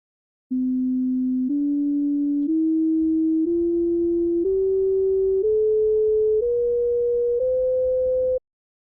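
Eight pure synthesized tones climb a scale tuned to just-ratio intervals, each lasting about a second at a steady loud level, with no voices.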